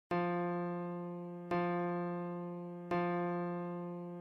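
The musical note F rings out three times in even succession for a hearing test, each strike a clean, sustained harmonic tone fading gently before the next, alone without speech.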